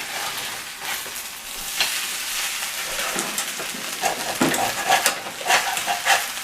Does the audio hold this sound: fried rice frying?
yes